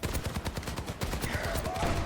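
Rapid volleys of helix rockets and weapon fire in an Overwatch match, a dense run of sharp, punchy bursts in quick succession, close and loud, with faint game tones beneath.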